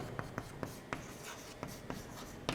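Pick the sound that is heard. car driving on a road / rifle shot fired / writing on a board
writing on a board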